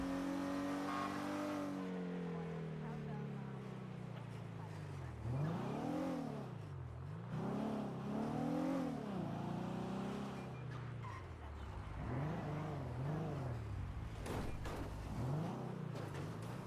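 Street race cars in a video game, engines revving and whining through repeated rising and falling sweeps, a steady loud drone of several cars over about seventeen seconds.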